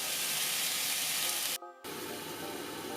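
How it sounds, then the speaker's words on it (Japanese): Burdock and carrot roasting on a stove, a loud broadband sizzle and hiss that cuts out abruptly for a moment and then resumes slightly quieter. "ごぼうと人参はストーブでローストしていきます"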